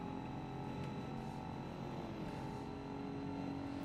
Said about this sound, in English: That's an engine rev limiter.